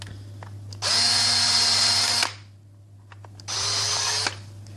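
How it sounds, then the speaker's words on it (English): A power drill bores a hole into an Xbox controller shell in two loud whirring bursts, the first longer than the second, separated by a brief pause with a low steady hum underneath. "Can actually just drill."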